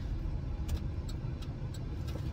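A car driving along, heard from inside the cabin as a steady low road and engine rumble with a few faint clicks, no voices.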